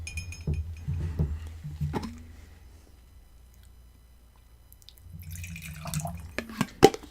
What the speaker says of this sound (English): I wonder if you add a touch of water, will the nose change?